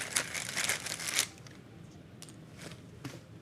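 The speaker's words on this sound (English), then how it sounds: "Get this all shuffled up." Board game tiles from the Countryside Expansion for Railroad Tiles being shuffled by hand, a quick rustling, clattering burst up close that stops after about a second, followed by a few faint scattered clicks and taps.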